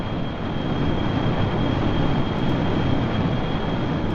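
Jet engine of an SR-71 in Kerbal Space Program roaring steadily at full thrust for takeoff, a loud continuous broadband rumble with a thin steady whine above it, no talking.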